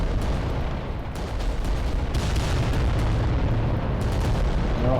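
Giant Titan war machines trading weapons fire in a Reaver-versus-Reaver fight in the game Adeptus Titanicus: Dominus, a dense, continuous roar of booming shots and blasts with no gaps.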